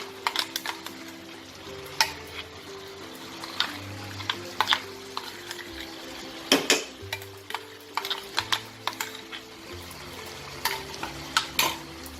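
A spoon scrapes and clinks through ground spices and fried-onion paste in a pan of Bengali mutton kosha, steady stirring sounds punctuated by repeated sharp metallic taps, with a low sizzle beneath and no talk.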